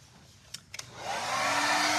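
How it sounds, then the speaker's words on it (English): Hair dryer switched on to dry a painted furniture finish, a couple of clicks and then a loud, close, steady whooshing roar. "now I need to dry this one more time"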